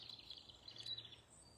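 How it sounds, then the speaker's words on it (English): Birds chirp faintly in short high twittering bursts outdoors on open land, with a low steady hum beneath. "Listen to those birds."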